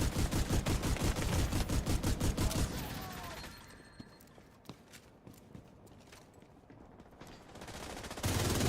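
Rapid automatic fire from a 105-round gun in The Division 2, a fast unbroken stream of loud close shots for several seconds, then quieter scattered game sounds before another burst resumes.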